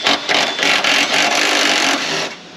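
A hand tool working a back engine bolt loose on a high-mileage Chevy 3.4L V6 gives a steady, close rasping and ratcheting scrape. It runs continuously for a few seconds with brief dips.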